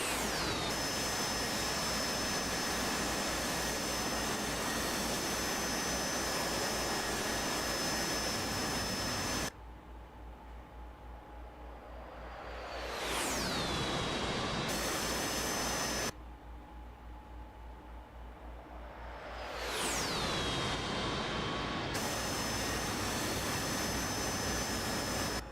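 A Harrier jet's engine roars loud and close in long sustained blasts, twice dropping away briefly before the broad rushing roar swells back with a rising whine.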